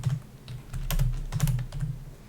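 Code is typed quietly on a computer keyboard, with soft, irregular key clicks in a close, steady rhythm and no voices.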